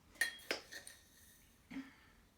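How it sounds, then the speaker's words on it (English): A spoon scooping raw brown sugar into a jar holding a little hot water, with a few sharp clinks of metal on glass spaced apart, then a softer knock near the end, close and quiet. "I'm going to add a few big scoops of brown sugar."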